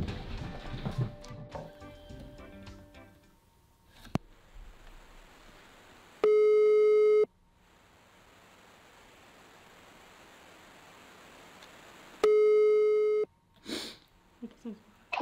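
A phone call ringing tone sounds twice, each a loud, steady one-second beep spaced several seconds apart, with quiet line hiss between and people talking briefly at the start and end.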